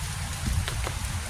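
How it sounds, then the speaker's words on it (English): Heavy rain with big raindrops falls in a dense, steady patter close by, a broad continuous hiss with scattered heavier drop hits. "It's raining harder than I thought it would."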